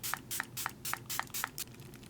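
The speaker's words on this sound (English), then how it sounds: "I just do the Milani Make It Last setting spray" Milani Make It Last setting spray misted onto a face in a string of short, soft hissing puffs, about six evenly spaced bursts, close and quiet with no talking.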